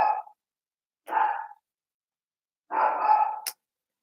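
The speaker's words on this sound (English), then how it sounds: "my dog is going to start now." A dog indoors gives three short, muffled barks or woofs, close by, with gaps between them and silence otherwise.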